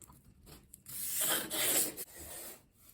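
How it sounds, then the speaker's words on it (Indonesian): Abrasive paper rubs across the balsa leading edge of a small rubber-powered model airplane wing, close up, in a few short rasping strokes with brief pauses between them and no talking. "untuk leading edge dengan diamplas ya"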